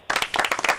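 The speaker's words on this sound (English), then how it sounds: "Round of applause for Paul." A studio audience applauds a radio phone-in caller, a short burst of close, brisk clapping lasting under a second.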